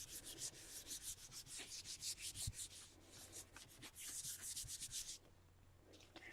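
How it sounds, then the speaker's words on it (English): Hands rubbing paper against a gelli plate to transfer paint, a run of soft, rhythmic dry swishing strokes, close and fairly quiet, repeating steadily before easing into a few scattered rubs at the end. "I'll just use my hands to rub on it and make sure that the paint transfers on the page."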